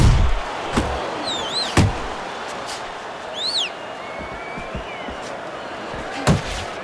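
Punches land in the boxing game Fight Night Champion as sharp, isolated thuds spaced a second or more apart, over a low crowd murmur with occasional whistles and commentary.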